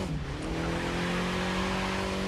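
A racing car in the video game The Crew 2 roars hard through a turn, its engine holding a loud, steady high-revving drone with tire noise and no talk.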